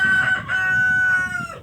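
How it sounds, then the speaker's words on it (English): Chickens and a rooster in a backyard coop: a long, loud crow rings out close by over a bed of softer clucking from the flock, with no one speaking. "I'm literally right by my chicken coop."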